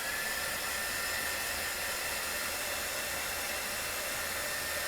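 A Wonder Wand heat tool blows steady air over wet paint, a constant loud rushing hiss with no break, close and alone.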